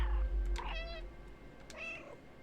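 A cat named Gucci gives two distinct meows about a second apart, fairly close and clear over a quiet low hum.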